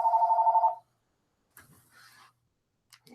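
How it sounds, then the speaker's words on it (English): A mobile phone rings once with a short steady electronic tone, fairly quiet, followed by faint rustling and handling noises as the call is answered. "My phone's ringing."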